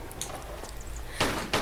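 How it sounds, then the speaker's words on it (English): A door opening in a Tomb Raider custom level game, a low grinding rumble followed by two sharp bursts of heavy stone-like movement near the end, fairly close and alone. "you just heard a door open as well"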